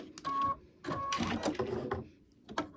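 A home embroidery machine stitching black thread on a free unicorn design, a close mechanical whirr in bursts with brief pauses, its needle chattering steadily and alone.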